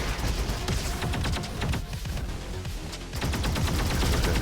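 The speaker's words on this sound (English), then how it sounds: "So every third rocket I fire" Rapid rocket fire blasts in the shooter game Roboquest, a dense, continuous barrage of loud explosive bursts with a brief dip midway before the volley resumes at full intensity, no voices.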